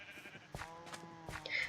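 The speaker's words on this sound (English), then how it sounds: "Oh my goodness, sheep." Sheep bleating in Minecraft, several short wavering calls spread across a couple of seconds, moderately close and alone with no talk over them.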